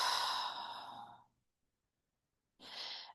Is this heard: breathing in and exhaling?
yes